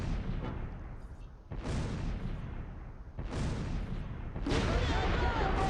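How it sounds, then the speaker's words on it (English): Mortar rounds landing in the Close Combat III wartime strategy game, three or four heavy booming impacts in sequence, each a sharp blast trailing into rumble, set against continuous battle noise. "Drop more mortars on these guys."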